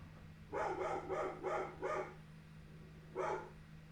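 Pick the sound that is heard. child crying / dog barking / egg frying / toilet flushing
dog barking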